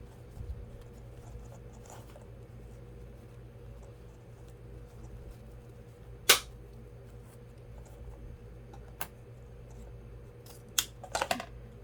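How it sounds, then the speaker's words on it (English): Scissors snipping jute rope while crafting a bunny Easter wreath, a few sharp crisp clicks scattered over a low steady hum, with one isolated snip and a quick cluster of cuts near the end. "cut it off right there"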